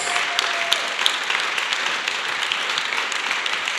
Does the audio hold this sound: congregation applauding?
yes